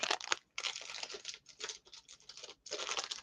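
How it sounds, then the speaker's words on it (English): Crystal glassware being unwrapped from its crinkly packing, with close, bright rustling and crackling in bursts separated by short pauses and no talking. "I'll just unwrap it like this."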